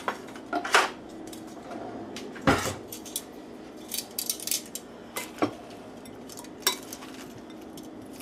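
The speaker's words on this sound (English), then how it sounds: "Now just toss that into the salad and we're done." Salad tossed in a bowl, with scattered clinks and scrapes of utensils against the dish, close and intermittent over a quiet background.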